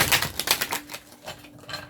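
Tarot cards drawn from a deck during a reading, a quick run of crisp papery flicks and shuffles that fade after the first second, over a faint steady hum.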